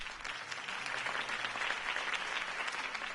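Crowd applause after a campaign speech in Telltale's Batman game, a steady dense wash of many hands clapping that carries evenly throughout without letting up.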